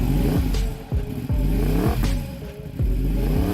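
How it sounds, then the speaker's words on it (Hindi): A homemade wooden jugaad motorcycle's engine runs with a loud, rough throb, revving up and down repeatedly with rattling clatter, close by and without talk. "ये किया इंजन स्टार्ट और चल मेरे धन्नो"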